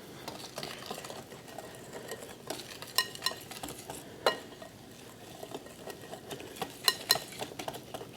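Reconstituted buttermilk batter for buckwheat being whipped in a large bowl, a busy scraping, slapping whisk rhythm with sharper clinks against the bowl now and then, close and fairly soft.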